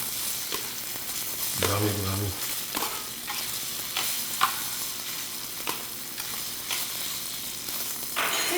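Precooked beets sizzle in olive oil in a hot pan, a steady frying hiss broken by repeated stirring clatters, with a brief spoken word partway through.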